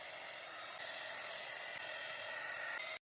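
Hair dryer blowing steadily on a washed moustache during styling, a continuous close airy roar that shifts slightly in pitch mid-way and then cuts off abruptly.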